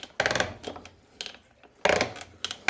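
Clunky mechanical ratcheting as a pool filter's multiport valve handle is turned to the waste setting on an inground swimming pool, with two loud bursts of grinding clicks separated by quieter clacks.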